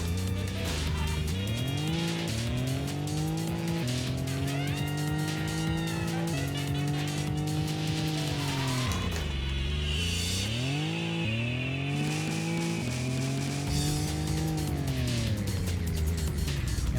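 Race cars from the PlayStation game Racing Lagoon roar continuously, engine pitch climbing and dropping through gear changes, with tire squeal and skidding layered over a steady, loud game soundtrack.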